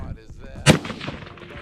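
A single 6.5 Creedmoor rifle shot cracks out at an outdoor shooting session, one loud sharp blast followed by a rolling echo that fades over about a second, with faint low background noise.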